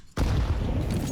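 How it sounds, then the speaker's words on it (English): A flashbang grenade goes off in Counter-Strike on the Ancient map, a sudden loud boom after a brief quiet moment, followed by sustained ringing noise. "The flashbang actually slows him down."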